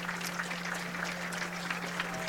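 A football homecoming crowd applauds an injured player being stretched off the field, steady distant clapping from many hands spread across the stands, fairly faint and continuous throughout.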